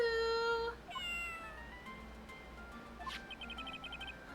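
Shoo, a cat in the Phoenix Wright: Ace Attorney Justice for All video game, gives short synthesized meows amid chiming game tones and a soft background tune, with no talking.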